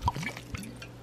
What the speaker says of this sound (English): And then I'm going to add the liqueur to this